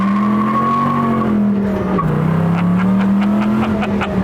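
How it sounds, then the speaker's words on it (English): A 1967 GT500 spins its tires on a cold road, a loud sustained rubber squeal over a rumbling V8 that wavers in pitch, with chattering bursts of tire scrub toward the end. "it's so easy to burn tires down the road too because it's just the road's cold"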